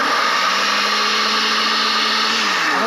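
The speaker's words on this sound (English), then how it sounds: "We're going to put it into the blender." A blender whirs steadily as it purees organic raspberries into whipped topping, a loud continuous motor drone that holds constant and then drops slightly in pitch near the end.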